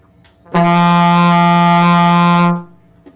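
A sustained trombone tone on the note F, held steady for about two seconds, rich in harmonics, starting cleanly and fading at the end, with silence around it.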